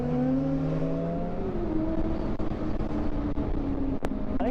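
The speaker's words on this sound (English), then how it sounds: "I think that truck's flying up on us." Truck closing in fast on a road, a loud continuous engine roar with rising and falling tones and wind rush, heard close from inside a moving vehicle.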